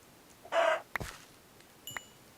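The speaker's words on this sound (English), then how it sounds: "You're a baby chicken, alright." A baby chicken in a farming video game lets out a short, bright chirping squawk, followed by a couple of faint clicks and blips against a quiet background.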